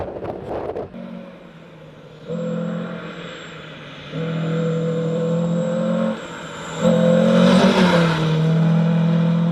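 A historic rally car races through a forest stage, its engine passing close and loud with repeated surges of revving as it accelerates between gear changes, no voices.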